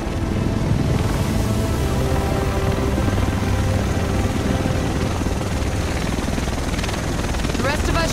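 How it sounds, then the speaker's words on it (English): A helicopter arrives in the video game The Division, set in Manhattan: a loud, continuous rotor and engine roar holds steady throughout with no talking over it. "The rest of us should be in this chopper."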